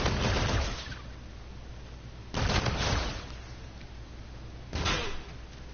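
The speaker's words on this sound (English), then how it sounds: "the Volk's damage balances out with fire rate, so it'll do significantly more damage, but won't shoot nearly as fast" Volk rifle firing in Call of Duty: Infinite Warfare, coming as three short, clustered bursts of sharp gunfire separated by brief pauses over low background game noise, no talking.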